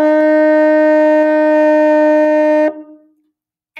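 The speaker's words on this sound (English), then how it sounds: "that was the very first note for French horn" A single sustained mellophone F note is held steadily for over two seconds, then stops abruptly, leaving near silence.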